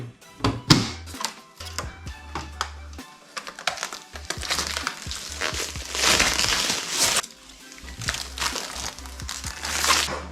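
Front glass panel fitted onto a gaming PC case: a long run of close clicks, crunches and scraping knocks as the panel is seated, with a steady low hum beneath.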